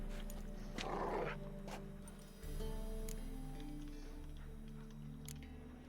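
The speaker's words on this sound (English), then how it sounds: "Sit, you stupid mutts, lie down" Dogs in The Witcher 3 give low growls and a brief snarl, fairly faint against a quiet ambient background.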